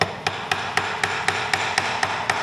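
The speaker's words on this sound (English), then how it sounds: "I like to take a small hammer and just give it a light tap" A small hammer tapping lightly on a Minn Kota Ulterra trolling motor part to seat it before a screw goes in, giving about ten evenly spaced, crisp metallic taps in a steady rhythm over faint background hiss.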